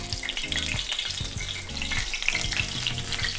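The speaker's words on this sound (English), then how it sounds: "And into the oil. So you just want to delicately flip." Battered banana blossom pieces fry in hot oil with a steady, close crackling sizzle that continues without a break.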